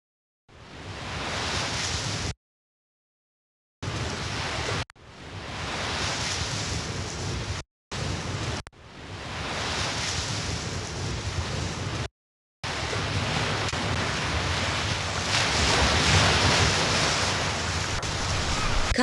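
Ocean waves batter a rocky coastline in a steady, roaring wash of surf with wind noise, broken by several abrupt silent gaps before the rush resumes louder and continuous.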